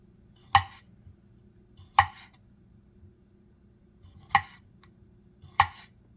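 A petty knife cuts thin slices of grape on a cutting board, giving four sharp, isolated taps at an uneven pace, close and clear with quiet between them.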